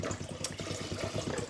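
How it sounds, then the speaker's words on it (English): Hands squeezing and releasing plain water while making matzo balls at a stove give a steady, rhythmic run of soft wet squelches and splashes, close and continuous. "We will continue now with the squeezing and releasing of just water."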